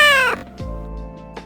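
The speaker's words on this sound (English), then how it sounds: "when the cat is touching the mouse, it sounds like mew and the other sound like pop." A cartoon cat meow sound effect in a Scratch cat-and-mouse game, one loud, bright, rising-then-falling meow up front followed by a couple of short soft blips and a low hum.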